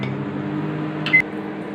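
A microwave oven hums steadily while baking a cake, a low constant drone with a brief faint beep or click near the end, heard alone without talk.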